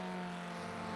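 Formula 1600 race car engine in a racing game at Lime Rock, a steady droning tone held at partial throttle, close and even throughout the short stretch.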